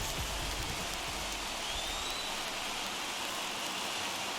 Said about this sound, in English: we've mentioned the conditions aren't ideal with the rain coming down